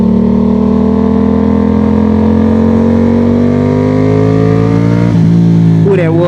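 A Yamaha MT-07 fitted with an R6 throttle tube pulls hard and close, its engine drone climbing steadily in pitch for about five seconds before a brief dip, as at a gear change, then rising again.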